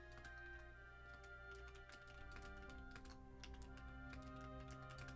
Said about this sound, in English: I'm here. I'm typing.